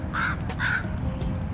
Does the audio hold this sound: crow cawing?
yes